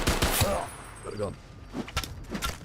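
Enemy gunfire in the survival game Fallout D.U.S.T., a few sharp shots and bursts heard over game ambience, with a player talking around them.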